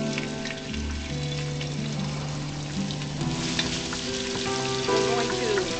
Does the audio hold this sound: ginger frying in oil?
yes